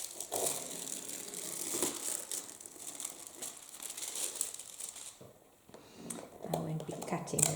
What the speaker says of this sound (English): So now the first step is the foil comes off